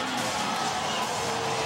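A crowd at a high school football game, Kinkaid against St. John's, cheers and roars as the final play ends and the championship is won. The noise is a steady, dense wash of crowd sound.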